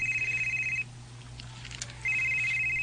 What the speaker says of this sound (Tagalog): Nabiyaan madinig cellphone ni Dars pag arin niya sa akong gipuyan